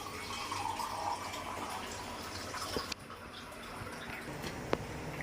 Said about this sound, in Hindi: पानी डाल दिया।